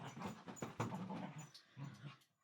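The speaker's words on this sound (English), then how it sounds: "A very excited sausage dog." An excited dachshund named Woody makes close, busy dog noises, with panting, whimpering and growly yips in bursts that pause briefly near the end.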